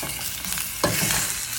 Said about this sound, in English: And we're gonna let it simmer in oil.